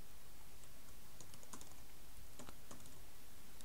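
Someone typing on a computer keyboard, soft scattered keystrokes with a few sharper taps, faint against a steady noisy background.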